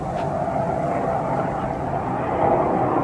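Jet aircraft flying high overhead near an airport flight line, a steady distant roar that holds evenly and swells slightly toward the end.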